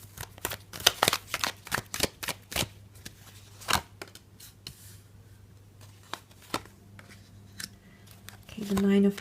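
Tarot cards being shuffled in a series of quick riffling bursts and taps, close and crisp, with pauses between handfuls and a brief hum near the end.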